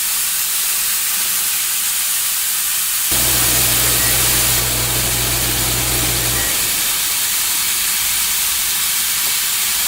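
Beef for a beef bowl sizzles loudly in a hot pan. A constant hiss runs throughout and swells sharply for a few seconds in the middle before settling back.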